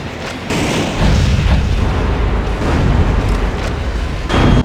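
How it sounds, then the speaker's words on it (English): Every weapon on a mech suit firing at once in Metal Wolf Chaos XD, a loud continuous roar of explosions and booms that stays dense and heavy throughout. "You can fire all of your fucking weapons at once."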